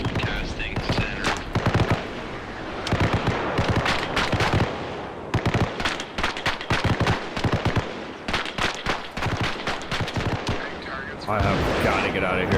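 Rapid explosions and gunfire in the video game Arma Reforger, a dense, loud barrage of sharp cracks and booms continuing throughout, with voices talking over it.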